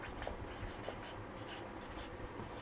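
Writing on a board in a classroom: a quick run of tapping, scratching strokes, close and moderately loud, with no speech.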